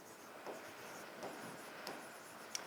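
Pen writing on paper, faint soft scratching strokes with a few brief louder scrapes, quiet and close with no talking.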